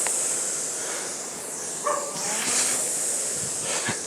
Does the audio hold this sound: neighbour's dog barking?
yes